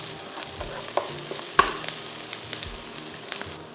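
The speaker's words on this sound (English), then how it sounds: "Fry the sambal till your whole kitchen smells of sambal and the fumes go up your nose." Sambal frying in a pan, a steady soft sizzle with occasional small pops and stirring clicks, close and moderately quiet.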